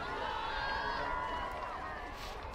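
Steady crowd noise at a night high school football game between Roseburg and Southridge, a broad murmur with faint cheering, heard from a distance and never rising sharply.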